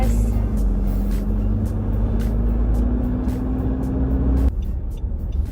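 A car engine accelerating steadily as a first-time driver in stiletto shoes eases onto the gas pedal: a loud, continuous hum with a slowly rising tone that drops off near the end.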